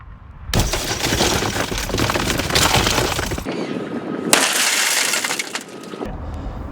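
A vehicle window shatters under a punch tool into tiny pieces, a loud, sustained crackling crash of breaking glass, then a second burst of crunching shards after a brief lull.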